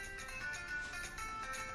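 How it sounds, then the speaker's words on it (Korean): A mobile phone ringtone rings in a quiet interview room, a faint, steady melodic tone that carries on without a break and with no one talking. "면접이 진행되던 중 지최의 휴대폰 벨소리가 울렸고"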